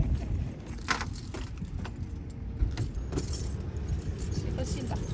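Keys jangle close by beside a car, with a few bright metallic clinks and rattles rising over a low, steady rumble of engine or road noise.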